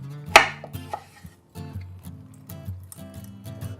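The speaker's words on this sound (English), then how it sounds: "All right, now to juicing." Kitchen clatter while lemons are juiced for a coconut lemon bundt cake: a sharp clink up front, then a run of soft knocks, squeaks and scraping of a hand juicer and bowl, close and uneven.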